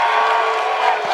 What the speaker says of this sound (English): keep booing my ass